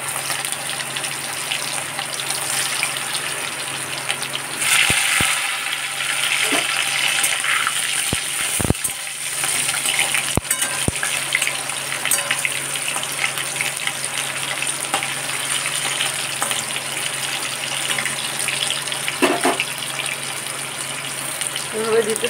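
Cauliflower florets fry in hot oil, giving a steady close sizzle and bubbling hiss that swells as pieces are added, with occasional clinks from a utensil.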